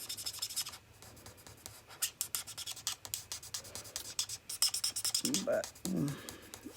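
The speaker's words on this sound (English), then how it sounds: "My markers sound like they're drying out." A drying-out Stampin' Up marker in crumb cake scratches across paper in rapid repeated strokes while coloring, close and raspy, with someone briefly speaking near the end.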